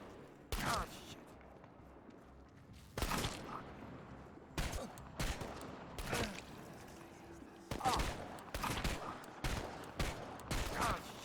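Bursts of gunfire from the video game Chernobylite, sharp broadband shots spread across the clip in irregular clusters, some single and some doubled, loud and close over a low rumbling game ambience.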